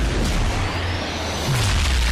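A loud, close gunshot in a PewDiePie video game, shooting at Nazis: a single heavy boom with a deep rumbling tail, then a second low thud.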